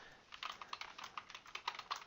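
Rapid typing on a computer keyboard while entering text into a Word document, a quiet close run of irregular keystroke clicks with no voice.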